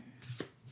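Light Seers tarot deck cards shuffled in a short riffling burst, soft and close, with a brief crisp flutter midway and no voices.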